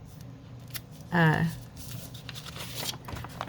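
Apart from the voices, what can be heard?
scissors trimming excess tape on paper pocket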